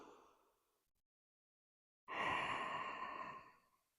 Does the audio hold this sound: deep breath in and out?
yes